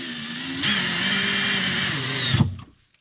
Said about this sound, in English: I ended up having to use a 90-degree power driver or drill